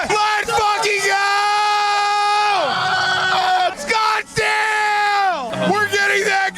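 Several people yelling and whooping together in long, drawn-out hoarse shouts, loud and close, rising and falling in two big bursts with short gaps between.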